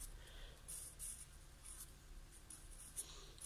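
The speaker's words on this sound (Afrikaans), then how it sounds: "So ons skryf hom hieronder." Soft scratching of a pen or pencil writing a word on paper, close and quiet, with short strokes in an uneven rhythm and no voices.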